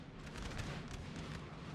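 Cannon fire from a Napoleon Total War battle, a dense, continuous rumble of distant booms rolling together across a wide battlefield, steady and moderately loud with no clear gaps between shots.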